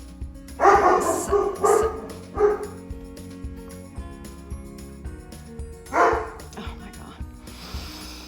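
Rin the dog barks in a quick run of loud, close yips and bow-wows, falls quiet, then lets out one more bark near the end, with a brief voice over the top.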